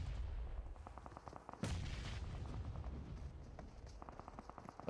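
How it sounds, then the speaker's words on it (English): A grenade bursts with a sharp, loud blast during a PUBG Mobile pro league match, set among bursts of rapid gunfire before and after, with no talk heard. "Escaton got the nade at the ready. Will it find its place though?"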